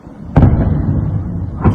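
A blast from several explosions striking Melitopol, Ukraine, at night: one sharp thump followed by a rumbling low roar, then a second impact near the end, heard at a distance.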